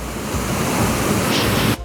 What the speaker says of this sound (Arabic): شلالات نياجرا في مونتينيجرو الجبل الاسود